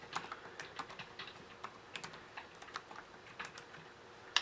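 Quick, light clicks of fingers typing a short word on a computer keyboard, an irregular run of soft key taps close to the microphone with no voices.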